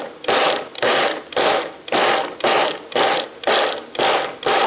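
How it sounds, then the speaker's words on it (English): A kitchen appliance pulses barley for vegan Italian sausage in about nine short, evenly spaced bursts of loud chopping whir, each separated by a brief pause. "pulse the barley a little bit"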